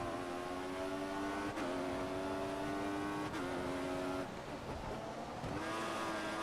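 Formula 1 car engine from the F1 2014 racing game at the Sochi circuit, a loud continuous high-revving whine that drops sharply at each gear shift and climbs again, with no talking.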